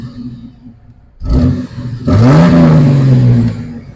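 A Jeep XJ engine revs as the gas pedal is pressed, a short burst followed by a longer loud, rising and falling roar that briefly stumbles, close and alone without speech.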